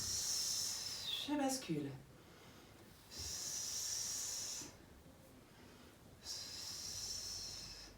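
Slow, audible exhalations during a Swiss ball strengthening exercise, three long soft breathy hisses separated by quiet pauses, close to the microphone, with someone briefly speaking between them.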